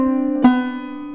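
A single clawhammer banjo hammer-on line from the fiddle tune Kitchen Girl, landing on the 4th fret of the 3rd string: one bright plucked attack ringing out with sustained metallic overtones, close and alone.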